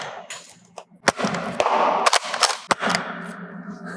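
A NERF N-Series Pin Point blaster fires at a target about 30 feet away, producing several sharp, close snapping shots spaced irregularly over a few seconds, with faint mechanical clatter between them.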